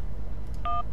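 Mobile phone dialing in the Syberia adventure game, a single short two-tone keypad beep near the end of a quiet moment, clean and close.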